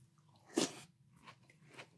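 Close-up crunchy chewing of Cookie Butter cereal, a bright crisp bite burst followed by two softer crunches at a steady pace, with no talking.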